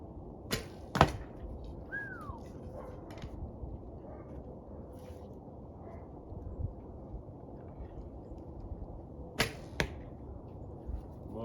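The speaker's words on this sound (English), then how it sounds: "A little bit of rattle that I could discern there at the end of the shot" Bow shot with heavier arrows through a duoflex bow, a sharp near release followed by a faint rattle at the end, with another shot near the close over steady outdoor background noise.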